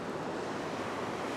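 Surf washes onto a beach in a broad, continuous roar, with wind buffeting the microphone and no voices.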